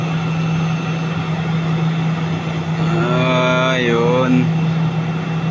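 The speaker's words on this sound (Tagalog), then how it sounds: "Cebu Pacific siya mga idol. Eroplano ng Cebu Pacific. Park na siya." A Cebu Pacific airliner taxiing to park at an airport in the early morning, a loud steady engine drone with a low hum underneath and a rising, falling whine in the middle, while someone speaks over it.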